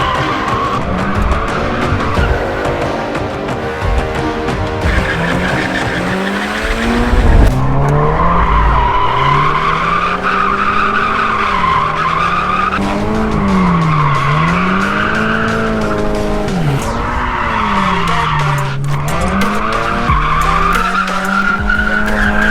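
A Toyota GT86 drifts with sustained tire squeal, its engine revving up and down in repeated swells as the tires skid loudly and continuously close by.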